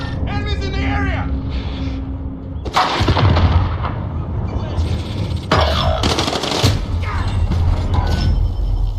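Gunfire in a military shooter video game, with loud repeated bursts of shots and impacts over continuous battlefield noise while players talk over it.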